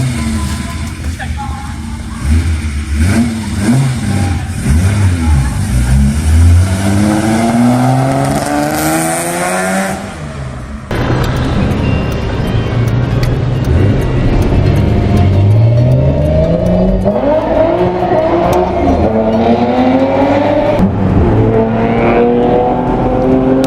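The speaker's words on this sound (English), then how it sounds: "It was powered by the 2-liter S20 inline-6 engine." A Nissan Skyline 2000 GTR with its 2-liter S20 inline-6 revs and accelerates through repeated rising gear sweeps in Need for Speed, loud and close, with a cut near the middle and a voice talking over it.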